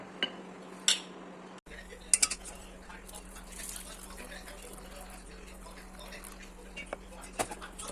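Salt, rasam powder and chopped coriander are worked together by hand for tomato rasam, a few light clinks and taps of a vessel standing out over a low, steady kitchen hum.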